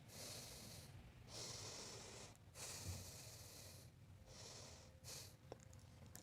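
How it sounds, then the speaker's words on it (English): Two slow, deep breaths, each a long airy inhale and exhale close to the microphone, quiet and unhurried in a calm indoor room with no talking. "Let me take 2 deep breaths."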